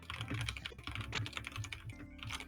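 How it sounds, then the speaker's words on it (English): Furious, rapid clattering on a keyboard, dense overlapping keystrokes over a low background hum, steady and continuous with a short lull near the end, no voices. "Furious typing."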